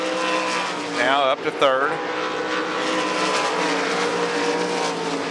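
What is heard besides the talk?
305 sprint cars racing on Devil's Bowl Speedway dirt track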